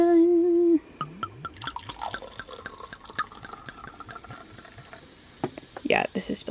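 Watermelon being poured and spilling over a tray: a short steady tone, then a string of wet drips and splashes at an irregular rhythm, close and moderately loud, ending in a brief fuller splash.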